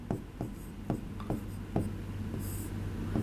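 A pen or chalk scratches out a string of quick strokes, close and crisp, set against a faint steady hum in a chemistry classroom.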